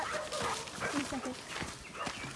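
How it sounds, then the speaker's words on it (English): A puppy on a tea plantation path near Kandy, Sri Lanka gives a few short, sharp barks and yips close by. They are mixed in with people talking. "Oh my gosh, that scared me. It was a puppy."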